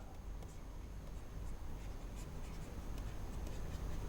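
Chalk or marker strokes on a board during an online class lesson, faint scratchy writing sounds with short repeated strokes over a steady low room hum, no voices.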